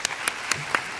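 Brief scattered clapping from an audience welcoming a speaker to a meeting, a few distinct claps spaced apart over about a second, moderately faint.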